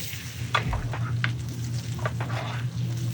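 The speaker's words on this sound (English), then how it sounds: "We're gonna baste. It's just a technique of going right" Butter sizzling in a pan while scallops are basted, a steady close frying hiss broken by irregular spooning splashes and light scrapes, heard alone without talk.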